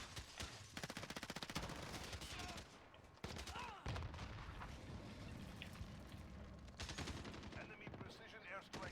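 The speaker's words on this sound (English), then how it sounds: "Enemy sentry gun active." A sentry gun in Call of Duty Warzone fires in rapid automatic bursts, mixed with other gunfire and battle noise in a dense, busy soundscape.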